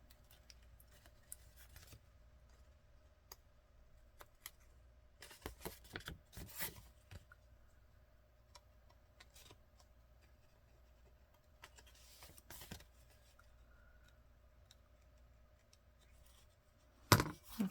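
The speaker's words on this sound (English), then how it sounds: "looks like I got some more trimming to do here" Scissors trim a brown paper envelope, short bursts of close, quiet snipping scattered through the clip with a faint hum underneath.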